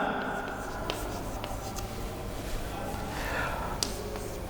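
Chalk scratching a sentence onto a classroom blackboard, soft intermittent strokes with small taps, close but fairly quiet under light room noise and a teacher's voice.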